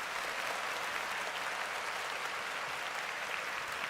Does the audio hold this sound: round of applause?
yes